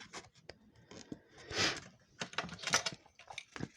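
Protective film is peeled off double-sided tape on a handmade birth card, giving close, faint crackling and ripping bursts with small clicks in an uneven rhythm.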